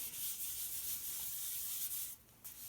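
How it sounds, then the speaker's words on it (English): Continuous close scrubbing as a cloth rubs a new finish into the pores of a turned wooden chip and dip platter, steady and even before briefly easing near the end, with no voices. "You want to rub it into those pores, though."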